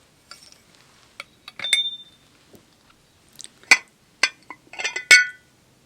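A small glass teapot is handled and gives a series of sharp, bright clinks and taps, close by and irregular, with quiet pauses between them.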